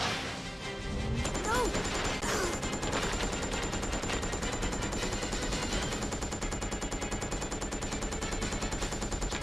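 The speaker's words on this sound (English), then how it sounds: "Who is shooting?" Sustained rapid automatic gunfire in Resident Evil: Code Veronica, a loud continuous burst with crashes and impacts mixed in, and a brief voice early on.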